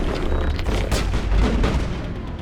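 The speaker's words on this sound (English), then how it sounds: "Rockets, man." Rocket explosions in the Mass Effect video game, loud dense rumbling booms layered over continuous gunfire and combat noise, with a sharp blast near the start and another swell in the middle.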